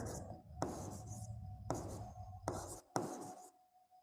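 A pen writes numbers on an exam answer sheet, making faint scratchy strokes in short separate bursts with brief pauses between them, close and quiet with no talk.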